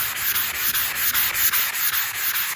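Hand scuff sanding on painted furniture between paint coats, a steady rhythm of rasping back-and-forth strokes, close and fairly loud, with no talking.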